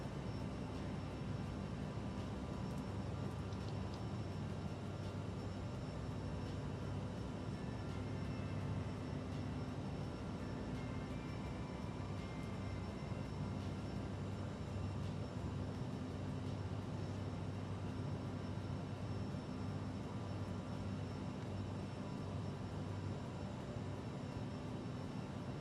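A fixed-wing airplane cruises in a flight simulator, with a constant broadband engine and wind roar that stays steady and unbroken throughout.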